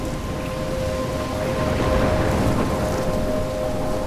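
A storm rages in Life Is Strange: heavy rain pours continuously, with rolling thunder building and swelling in the middle before easing, no voices.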